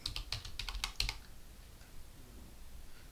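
Rapid keystrokes on a computer keyboard, a quick burst of close, crisp clicks that stops after about a second, leaving quiet room noise.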